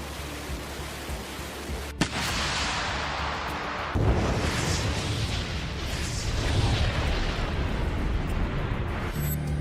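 Artillery shelling by Russian Vostok group guns against Ukrainian positions in Zaporizhzhia: a sharp blast at two seconds, then a heavier boom at four seconds that gives way to sustained rumbling, roaring noise.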